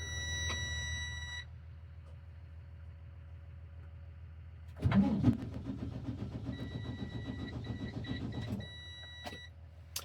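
A truck engine cranks for about four seconds, a loud, rough churning burst that never catches into a running idle, with quiet, steady background hum before and after.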